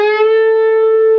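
Electric guitar note played at the 11th fret of the G string and pushed up in a 1.5-step bend, a single clear sustained tone with steady harmonics ringing alone for just over a second.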